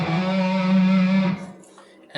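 A single sustained electric guitar note rings on the A string, gliding slightly before cutting off after about a second and a half, followed by faint string noise.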